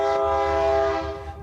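A train horn sounds loud and sustained, holding steady chords over the rumble of a passing train in Colorado, then fading toward the end.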